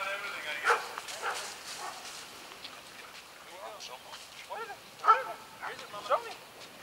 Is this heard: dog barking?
yes